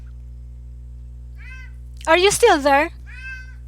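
A cat meows loudly and close by in a long, wavering call, with brief speech just before and after it.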